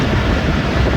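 Passenger train running along the Kot Addu–Sher Shah branch line near Muzaffargarh, a steady loud rumble of wheels and carriage noise with wind, continuous and close throughout.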